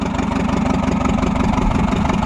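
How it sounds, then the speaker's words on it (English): A tractor engine, freshly coaxed back to life, idles steadily and close by with a dense, even low rumble and no voices. "We now have another running tractor."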